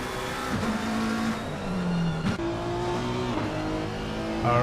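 McLaren GT3 race car in a racing video game, engine revving up and down through gear shifts with a brief tire squeal, loud and close throughout.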